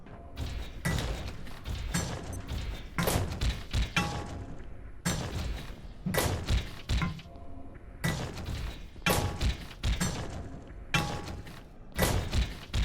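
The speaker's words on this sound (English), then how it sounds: "I can maybe just smack the robot around" A robot in the game Abiotic Factor is smacked over and over, producing a rapid series of heavy metallic thuds and clanks at a steady rhythm. The hits are loud and close, and no one speaks.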